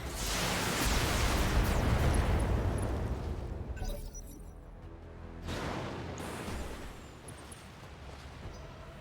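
Mech weapons in the BattleTech video game fire at a Pixie mech, producing heavy booming blasts and rumbling impacts in two waves, loud and close.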